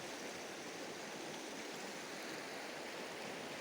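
Steady, dense rush of the Durbuk river flowing through its valley in Ladakh, a continuous broadband roar with no breaks and no voices.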